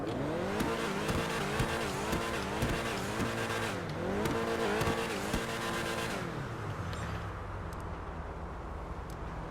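Grotti Cheetah Classic sports car driving in GTA Online, its engine revving up and down through several gear changes with a steady loud roar, then easing off into a lower idle-like hum near the end.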